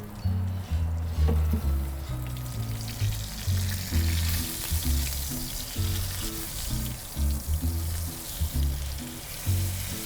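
A steak sears in a hot pan inside a Gozney pizza oven, giving a steady hiss of frying fat under an ongoing low, rhythmic background hum.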